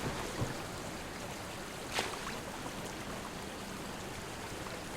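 A river flows in the Cormyr: King's Forest video game, a steady broadband wash of rushing water held at a constant level, with a brief splash-like accent near the middle.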